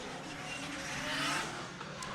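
A drift car at IDC pro qualifying on a track corner, its engine roaring steadily under throttle and swelling slightly in the middle, with faint tire noise mixed in.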